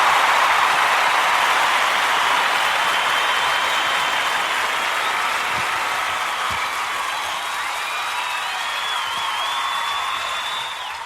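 Applause from a live show audience, a steady broadband wash of clapping that runs the full length, slowly easing slightly toward the end, with no talk over it.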